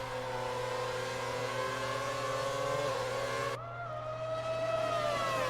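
Race cars roar around the track in a racing video game, sustained high engine whine with shifting pitch and a sudden gear change partway through, loud and continuous with no talk.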